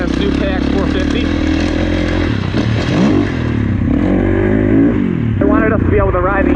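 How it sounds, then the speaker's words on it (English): A new Kawasaki KX450 gas dirt bike engine revs and drones loudly up close, rising and falling with throttle, while people talk over it. "now we're trying some gas bikes back to back. We're on this new KX450"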